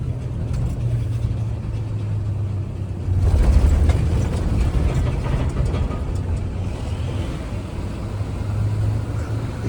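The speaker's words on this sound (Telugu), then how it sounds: "ఈ రంబుల్ స్ట్రిప్స్ ఉన్నాయి కదా, సావా కొడతాయి బండిని. దడదడ సౌండ్లు ఇవి." A loaded lorry's engine drones steadily with low broadband rumble, swelling into a rougher, louder rattling passage midway as the tyres cross rumble strips, then settling back into the even road noise.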